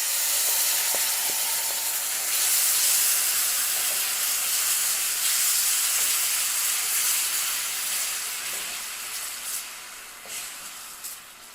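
Tamarind pulp hits hot spices and green chili frying in a pan, giving a loud, steady sizzle and hiss that gradually eases with faint stirring clicks and no voices.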